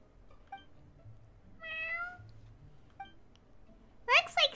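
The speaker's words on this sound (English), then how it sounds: "Is this really how cats greet one another?" A cat meows several times in Genshin Impact, giving short tonal mews and one longer drawn-out meow, followed by a high, bright chirping burst at the end, with voices in the game around it.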